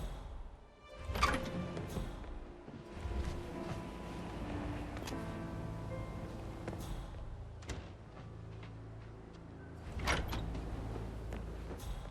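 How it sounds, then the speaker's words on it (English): A hidden sliding door grinds open in Hitman 3, a mechanical rumble with scraping and creaks lasting several seconds, punctuated by sharp thuds at the start and a louder clunk near the end, over quiet background music. "A hidden door. It's a secret passage."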